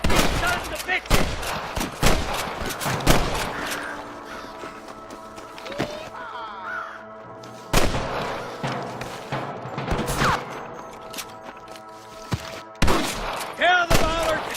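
Sniper gunfire in the Western video game Red Dead Redemption: loud, sharp rifle cracks and volleys, some clustered in quick bursts and others spaced apart, with ringing tails and movement noise between shots.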